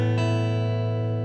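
A single acoustic guitar chord, low E string unplayed, strummed once and left ringing, its notes sustaining clearly and slowly fading, close and moderately loud.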